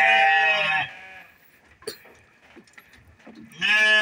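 A young male sheep bleats loudly and close by, one long wavering call, then a quieter pause with faint shuffling, then the start of another bleat.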